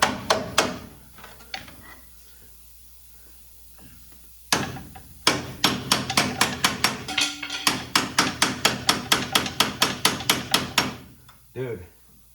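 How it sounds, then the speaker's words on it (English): A hammer drives a bar against a seized bolt head on the front suspension of a 2007 Chevy Silverado: a few scattered knocks, then a loud, rapid, steady run of about fifteen ringing metallic blows up close. "Grab that hammer and bar again."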